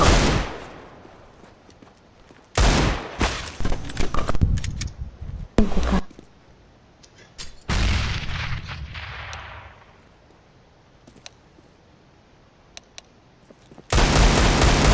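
Gunfire from the video game CS:GO comes in loud, dense bursts of rapid shots with sharp breaks between them, then a long quieter stretch before another heavy burst at the end.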